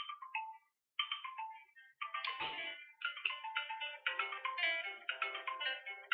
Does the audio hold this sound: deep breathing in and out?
no